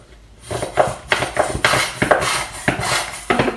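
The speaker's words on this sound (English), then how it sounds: "I'm going to soak this pan" Pan from a minestrone being washed and soaked in a kitchen sink, with a run of clanks and scrapes of metal against the basin and water sloshing, repeating roughly every half second, close and moderately loud.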